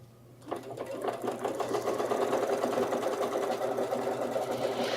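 A Kimberbell embroidery machine stitches rapidly and steadily, tacking down quilt batting with a continuous mechanical whirring rhythm that starts abruptly and stays close and loud.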